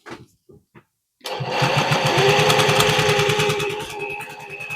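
After a few soft taps, a sewing machine fitted with a gathering presser foot starts up and runs steadily, a loud, close, fast rhythmic mechanical whir that continues to the end.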